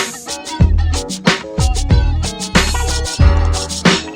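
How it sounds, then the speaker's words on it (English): A musical doorbell chime at a house plays a loud melodic tune of bright ringing tones with punchy low accents, repeating in a rhythmic pattern with no talking. "Now, when you come to my house, my doorbell sounds like this."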